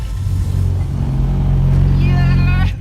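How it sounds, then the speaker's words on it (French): A Peugeot car at a driving academy spins out on a simulated icy skid track. Its engine hums loud and steady with a rising whine near the end, under a voice talking. "Et ça part en tête à queue."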